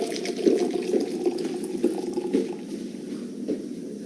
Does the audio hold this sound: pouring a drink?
yes